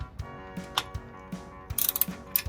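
Ratcheting clicks from a wrench tightening a bolt on a 1968 Baja Bug during an oil change, a quick irregular series of sharp mechanical clicks up close.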